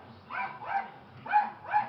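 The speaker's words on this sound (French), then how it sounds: "Je vais aller tuer le chien de la voisine, je peux plus, il aboie tout le temps" A neighbour's dog barking nearby in four short, evenly spaced yelps over about two seconds, heard alone with no talking.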